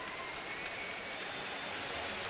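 Steady crowd applause and cheering at Progressive Field during a baseball game, an ovation for a departing pitcher; a broad, even wash of clapping throughout, moderately faint and distant.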